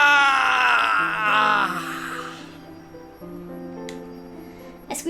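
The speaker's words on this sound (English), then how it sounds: "Lux's screaming cuts through my thoughts like a knife." A drawn-out pained scream from the character Lux in a story video game, loud at first and then fading, with a low sustained music tone underneath and a couple of sharp clicks near the end.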